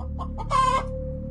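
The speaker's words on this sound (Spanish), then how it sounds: "vimos como varias gallinas estaban corriendo por el patio desesperadamente." A hen clucks sharply in the middle of a short farmyard moment, the call loud and close over a steady low background hum, with soft fowl murmurs around it and nobody speaking.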